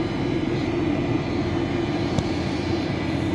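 Steady low cabin roar of a Malaysia Airlines jet descending toward landing in Malaysia, heard from inside the business class cabin, a continuous even drone with no voices.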